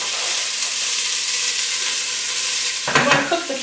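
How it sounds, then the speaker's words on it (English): Diced carrots sizzle in hot olive oil in a pot, a steady close frying hiss throughout that flares louder with stirring and crackling near the end. "I'm going to cook the carrots for about 5 minutes or until they start to soften a bit."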